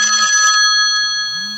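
A phone rings in a quiet room, a steady electronic trill with layered tones that holds for about a second, breaks off, then starts again near the end.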